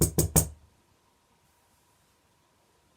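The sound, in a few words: knock on a door, story sound effect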